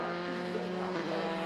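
A Dallara F308 Formula 3 car takes the right-hand Redgate Corner at Donington, a loud, steady high engine whine that shifts pitch slightly midway.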